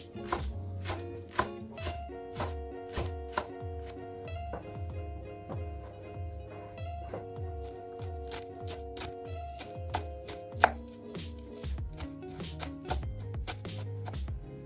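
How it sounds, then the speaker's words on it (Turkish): Rapid, steady knife chopping of leeks and parsley on a board, repeated thuds close up with a few sharper knocks, no talking. "şimdi pırasayı ve maydanozu doğrayıp tenceremizin içine alacağız"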